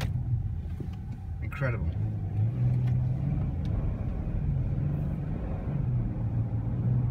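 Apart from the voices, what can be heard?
road traffic, cars passing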